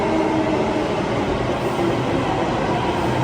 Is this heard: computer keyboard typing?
no